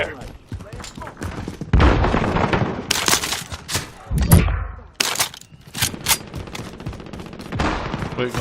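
Bursts of automatic gunfire and sharp cracking shots in a Call of Duty Warzone match, loud rapid volleys close by with brief gaps, under game announcer and player voices.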